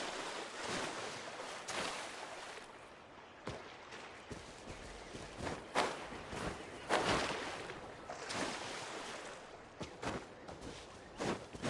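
Waves in the Genshin Impact video game, a continuous rushing surf-like wash with repeated swells and splashy peaks while surfing along the water.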